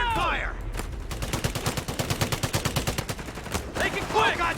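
Rapid rifle and machine-gun fire rattles in a dense burst through the middle of a Company of Heroes 3 World War II battle, loud and close, with shouted soldier voices before and after.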